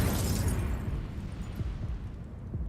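Incendio fire spell in Hogwarts Legacy bursts out as a loud, dense fiery blast, a roaring whoosh with crackling rumble that stays full for nearly three seconds.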